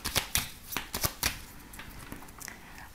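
Oracle cards are shuffled close by in a quick run of crisp, papery riffles and flutters. The bursts come in a rapid irregular rhythm and fade into softer rustling.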